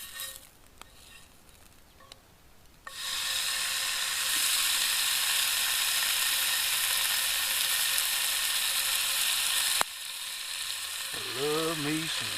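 Bacon frying in a pan, a loud close sizzle that cuts in after a few quiet seconds with faint clicks and holds steady for about seven seconds. It drops off suddenly, then returns softer under a brief voice.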